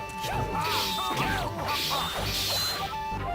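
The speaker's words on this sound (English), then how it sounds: "Smashing plate." Plates smashing inside a video game, a dense run of sharp crashes and scraping clatter repeating over a few seconds, loud and close amid game noise.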